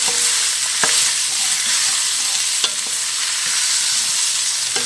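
Pre-cooked sausage sizzles loudly and steadily in a hot pan for a freezer-meal batch, with a few sharp scrapes of a utensil stirring it, close up and with no talking.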